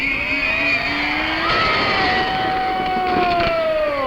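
A stunt car driven on its side with the right wheels up at a hell-driver show, its engine droning steadily with a rising and falling whine as it runs past, loud and close.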